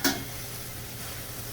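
Zucchini and onions browning on high heat in a pan on an electric stove give a sharp clink as they are stirred, then a soft, steady sizzle close by.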